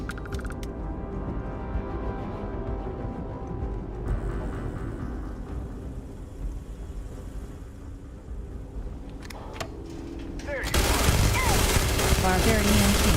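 Gunfire from a gun in Starfield, a rapid fusillade of shots under game ambience that swells into a louder burst near the end, with someone talking.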